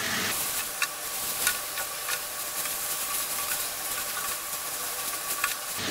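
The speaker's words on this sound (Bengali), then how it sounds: "এই একটু নাড়াচাড়া করে আমি এর মধ্যে দিয়ে দিব ওই সিদ্ধ করে রাখা নুডলসগুলা" Boiled noodles are stirred into chili garlic sauce in a pan over high heat, a steady sizzling hiss with scattered scraping stir strokes throughout.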